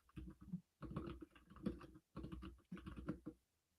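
Rapid clattering keystrokes on a computer keyboard, typed in several dense bursts separated by short pauses, close and fairly quiet, with no talking.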